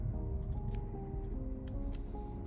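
Scissors pressed against folded origami paper to flatten a 3D Pikachu model, faint close scraping and crinkly ticks spread through a few seconds over a low steady background hum.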